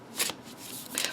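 Visconti Sforza tarot cards are shuffled overhand in two brisk, papery bursts of sliding and slapping, close up and alone.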